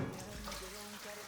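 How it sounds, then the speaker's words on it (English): Tap water running into a deep, wide saucepan in a laundry, a steady splashing fill under a faint background voice. "I'm just gonna fill this up and also wash my hands"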